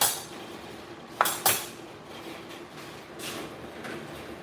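Dishes, cups and silverware clink and knock during washing up at a kitchen sink, with two sharp close clatters early on and softer scattered clinks over steady running-water hiss.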